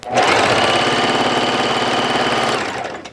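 A Bernette B05 Academy sewing machine runs at speed 2, a loud, even, rapid mechanical whirr and needle chatter held steady for about three seconds before winding down, close and without talk.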